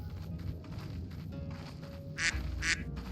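Two short nasal quacks from ducks in the Final Fantasy XIV Stormblood game world, rising over a soft ambient game soundscape, each call brief and fairly close, spaced about half a second apart.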